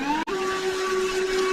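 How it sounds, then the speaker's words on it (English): A vacuum cleaner hoovers a floor during a home carpet replacement, giving a steady, close whine with a sustained hum and one brief dropout near the start. "I think it would be irresponsible of me to not hoover up the floor at this point"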